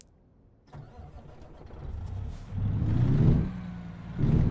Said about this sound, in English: Let's get this thing started up.